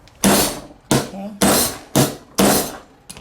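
A large hammer striking a Tucker steel stamp for jewelry stamping, five sharp, loud metallic blows in a steady rhythm, each ringing briefly before the next, plus a final lighter tap.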